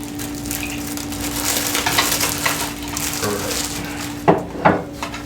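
Eggs and milk being whisked in a bowl give a continuous scratchy, rhythmic stirring with a steady background hum, ending in a couple of sharper taps against the bowl.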